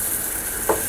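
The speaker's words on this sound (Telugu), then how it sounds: "ఇలా పెనం కొంచెం వేడైనాక చాలా లైట్గా నెయ్యి రాసుకోండి" Ghee heating on a hot pan for egg paratha, giving a steady close sizzle with a brief louder burst near the end.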